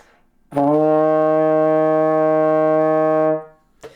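A single sustained trombone E flat in third position held steady for about three seconds, rich in harmonics, then released, with a brief breath or click after.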